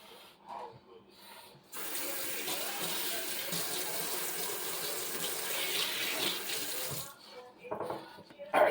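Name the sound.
tap water running over a ham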